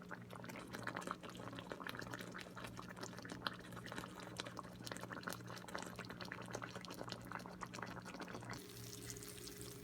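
Covered pan of smothered pork chops simmering in their juices on the stove, a steady faint bubbling and crackling hiss continuing throughout with a low background hum.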